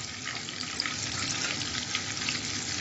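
Ghee and butter fry in a kadai, a steady, close hiss and sizzle that holds at an even level throughout with no speech.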